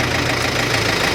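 A Ford 2N tractor engine runs with a cultivator attached, a close, steady, loud chugging drone with a faint knocking texture.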